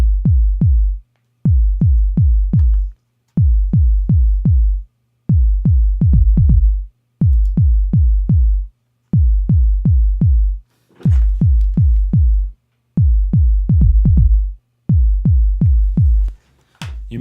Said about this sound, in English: then I just drop the note that's triggering my bass drum sound to the key of my project